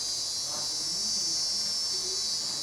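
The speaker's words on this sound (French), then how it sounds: "Les cigales, là-bas, ont un bruit métallique." Cicadas in Madagascar making a metallic buzzing, a continuous high shrill drone holding steady and fairly loud throughout, with faint low murmurs beneath.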